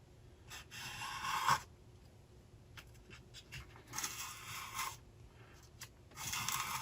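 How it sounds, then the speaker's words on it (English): Honing a French edge beveler on an Owden sharpening jig gives repeated short bursts of scraping and rasping at close range, broken by brief pauses. "Then I will just draw this back and start to hone that edge."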